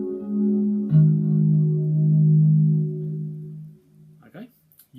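A natural harmonic on a guitar string at the 12th fret rings out as a sustained, pure tone that is struck twice and slowly fades, with a quick pluck or string noise at the end.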